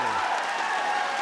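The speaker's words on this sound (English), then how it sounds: "Now the crowd's getting into the game here with Hakuoh fighting back." A basketball crowd at the WUBS 2023 semifinal between Hakuoh and Ateneo claps and cheers in a steady, distant wash of applause.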